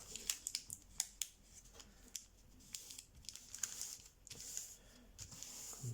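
Paper being creased and folded down while making an origami coyote, a quiet series of sharp crisp crinkles and taps in an irregular rhythm, with no talk.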